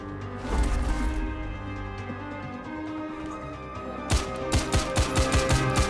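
Gunfire in the Xbox 360 shooter Wanted: Weapons of Fate: dense, loud shooting at the start gives way to a rapid, evenly spaced string of sharp shots near the end.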